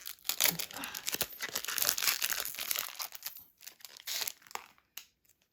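A Pokémon card booster pack wrapper being torn open, a dense run of loud, close crinkling and ripping plastic that thins into scattered crackles and stops.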